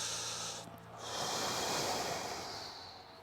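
A deep, slow inhale during a diaphragm breathing exercise for quadratus lumborum tightness: a soft, airy hiss that swells over about a second and then slowly fades, close and alone.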